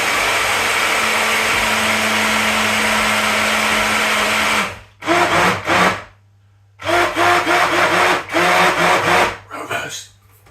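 A kitchen blender whirs loudly while blending a mince pie smoothie, running steadily for several seconds, then cutting out and starting again in short bursts with brief gaps between.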